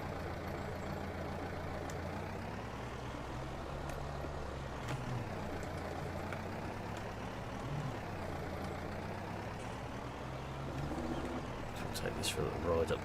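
Steady engine drone of a John Deere 6020 four-cylinder tractor in Farming Simulator 19, droning continuously with slight pitch rises and falls, while someone talks over it.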